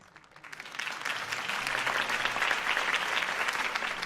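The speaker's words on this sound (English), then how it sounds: "If only Mr. Wayne, my campaign's largest backer, could have heard that applause" A crowd at a campaign speech in Batman: A Telltale Series bursts into sustained applause that swells quickly and holds steady, loud and close, with no talking over it.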